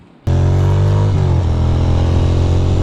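A motorcycle engine starts suddenly and runs loud and close, a steady rumbling drone with a brief shift in pitch partway through, heard by a rider wearing Happy Ears earplugs.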